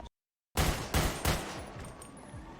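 Gunfire in a GTA roleplay game bursts in after a moment of silence: several loud, rapid shots crack out close by, then the shooting keeps going as a noisy, echoing barrage.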